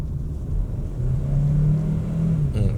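A 2025 Kia Sportage SUV accelerating in Sport Mode, its engine giving a steady mid-pitched hum that rises slightly in tone as it pulls, heard close with a brief rattle at the end.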